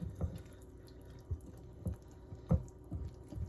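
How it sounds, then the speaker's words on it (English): Liquid is poured into a mixing bowl, making scattered irregular splashes and drips at close range, soft and quiet, with no voices. "Since it's a little dry, we're going to put the rest of our liquid in."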